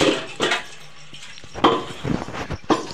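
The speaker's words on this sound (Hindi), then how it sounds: "देखो मैं अपना बर्तन मांज रही हूँ" Dishes and steel pots are scrubbed by hand at a home kitchen sink, with clattering utensil knocks, scraping and splashing water coming in irregular bursts close by.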